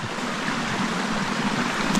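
Creek water flowing where a logging road crosses it: steady, broad rushing and gurgling close by, continuous and even in level with no voices.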